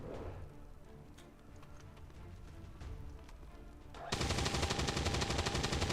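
Automatic gunfire aimed at a sectoid in XCOM 2: scattered sharp clicks and cracks give way to a loud, dense, continuous burst of shots that fills the last two seconds.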